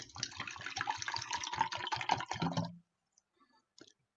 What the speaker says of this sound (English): So we're going to pour in some vinegar